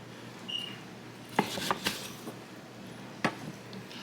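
A knife slices through cooked tri tip on a board, giving a few soft scraping strokes and sharp clicks against the surface, close and fairly quiet, with no talking.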